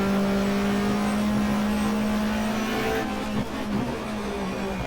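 A 1994 Australian Manufacturers Championship race car at Eastern Creek in the game GTR2 drones steadily, then its engine note drops as it downshifts to second gear for the hairpin, with no talk.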